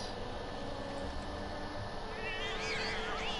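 Cats meowing in Final Fantasy VII Remake, a couple of wavering mews rising over a steady ambient hum near the end, moderately soft.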